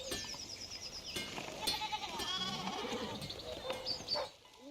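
Sheep in the medieval game Pentiment bleating repeatedly, a few wavering cries layered over a soft ambient outdoor background with faint scattered clicks.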